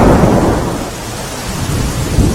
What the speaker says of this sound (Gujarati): વહેલી સવારથી જ ધોધમાર વરસાદની શરૂઆત થઈ ચૂકી છે